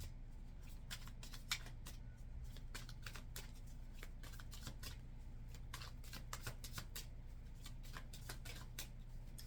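Tarot cards are shuffled by hand, a soft, close series of quick riffling and slapping flicks repeating steadily over a low background hum.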